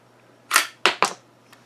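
Savage Rascal .22LR single-shot rifle action snapping open and a dummy round being ejected: three sharp metallic clicks close by, one then two in quick succession, with a faint tick after.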